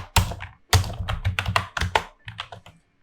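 Keystrokes clatter on a computer keyboard in quick irregular bursts, with a short pause before another flurry of taps; close and fairly loud, with no voices.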